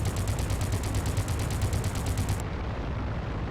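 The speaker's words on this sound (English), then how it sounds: "Let's see if our guns can hit them from here" Rapid aircraft machine-gun fire in the Crimson Skies flight game, a loud continuous rattling burst that stops abruptly near the end, leaving engine drone.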